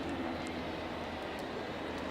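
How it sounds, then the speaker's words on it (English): A helicopter hovers over a Braves versus Red Sox baseball game in Boston, giving a faint, steady, distant rotor rumble that runs throughout. "Helicopter floating overhead."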